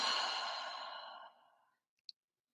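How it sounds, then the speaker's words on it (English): A single long, slow exhale through the mouth during a guided breathing exercise, close and soft. It fades gradually to silence, followed by a tiny faint click. "Exhale through your mouth."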